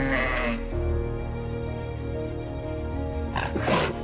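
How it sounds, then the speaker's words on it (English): A bighorn sheep in Canadian high mountain country gives loud, close, drawn-out bleating calls, a long wavering cry followed by a shorter rougher call near the end. "the bighorn sheep is not an aggressive creature"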